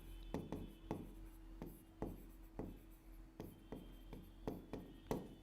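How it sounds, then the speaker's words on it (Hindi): Pen writing a book title on paper, a steady series of short scratching strokes, close and quiet, in a roughly regular rhythm with no talk. "मैं बुक का नाम लिख दे देती हूं"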